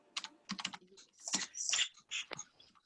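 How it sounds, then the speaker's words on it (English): Rapid, uneven clatter of keys on a computer keyboard, tapped in quick bursts as someone types furiously, close and fairly loud, with no talking. "Katrina's furiously typing something"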